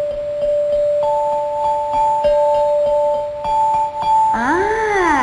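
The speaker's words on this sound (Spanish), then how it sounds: "Y aquí hay otra que es un poco más chiquita y está en nota La." A small resonator bell tuned to the note A rings with a clear, sustained tone, struck several times in a steady rhythm; near the end a warbling, wavering tone swells over it.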